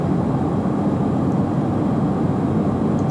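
Steady jet engine roar of a Challenger 650 business jet climbing out after takeoff in the X-Plane 12 flight simulator, a broad, even rumble holding at constant loudness throughout with no voices.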